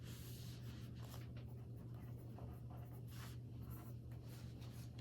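A child writes on paper with a pencil, faint scratchy strokes coming in short bursts over a steady low hum in a quiet room.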